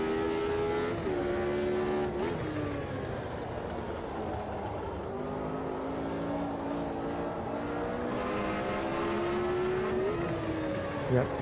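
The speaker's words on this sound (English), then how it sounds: "Do love blipping on the downshifts with these older cars, obviously with the H-pattern gearbox." An older racing car with an H-pattern gearbox in the Automobilista 2 sim at the Red Bull Ring holds a loud engine note, with sharp throttle blips on the downshifts and rising pitch on each upshift, going on continuously.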